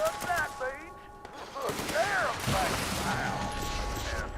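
In Fallout 76, a Gauss shotgun goes off in a burst of sharp, close electronic blasts and mechanical clatter, mixed with game chirps and beeps and a voice talking faintly underneath.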